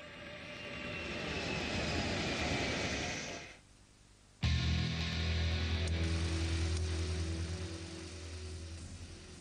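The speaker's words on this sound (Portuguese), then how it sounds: "do rebento da Guerra Fria de Kelly Johnson, o avião espião U-2." A U-2 spy plane's engine roars loud and steady, cuts out briefly to a near-silent gap, then returns with a deep low rumble and droning tone.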